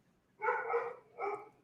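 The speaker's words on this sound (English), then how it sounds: "Follow Patrick home to hear his dog barking in real life" Patrick's dog barking in two bursts, the first longer and the second shorter, fairly close and clear over a quiet background.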